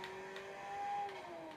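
A car engine in Forza Horizon 3 holds a steady, moderately loud hum at speed on a stunt course, briefly swelling before easing off.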